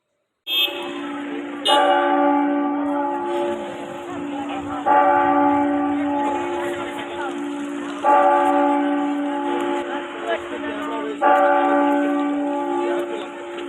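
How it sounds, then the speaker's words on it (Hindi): The clock tower bell at Lal Chowk, Srinagar rings out the hour with loud, resonant strikes spaced about three seconds apart, each one ringing on and fading before the next. "8 बज गए थे और घंटा घर में घंटा बज रहा था।"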